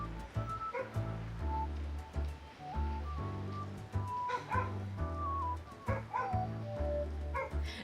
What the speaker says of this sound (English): while my dog's barking